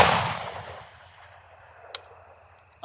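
A single loud rifle shot from an M1A EBR chambered in 6.5 Creedmoor, fired at a 1,000-yard target, with a sharp crack that rolls off into a long fading echo and a faint click near the end.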